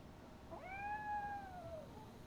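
A cat meows once in the video game RoboCop: Rogue City, a single drawn-out, rising then falling call heard alone over a faint room-tone background.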